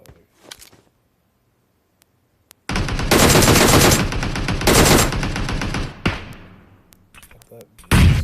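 Sustained automatic gunfire from PUBG Mobile bursts out loud and dense after a quiet opening, with rapid rattling volleys running for several seconds and a few sharp reports trailing at the end.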